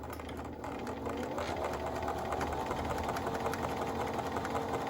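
A Bernina Activa sewing machine runs steadily while stitching a seam, its motor whirring in a continuous mechanical hum with rapid needle clatter, close and fairly loud, no voices.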